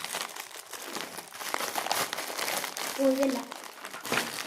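Plastic packaging crinkles and rustles steadily while a Labubu toy from the Happy Factory series is unboxed, with a person talking over the handling.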